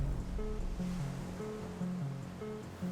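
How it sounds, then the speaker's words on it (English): The Severn Bore tidal wave surges up the river estuary as a continuous rushing wash of water, heard under a looping melodic music line that carries throughout. "surges up the estuary, creating a tidal bore, a wave large enough to surf"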